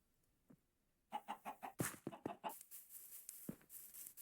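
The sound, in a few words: chickens clucking in a video game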